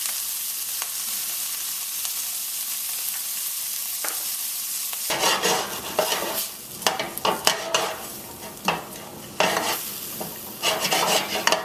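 Swiss chard cooking in a pot, a steady sizzle at first, then louder irregular stirring scrapes and clatters over the frying hiss, close up with no talk.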